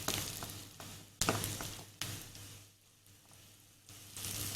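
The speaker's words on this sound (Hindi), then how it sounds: "और इसको आपने प्याज को हल्का सा फ्राई करना है।" Onions lightly frying in a pan with curry leaves, a soft, steady sizzle that swells in short bursts, with quiet stirring scrapes and a calmer gap partway through.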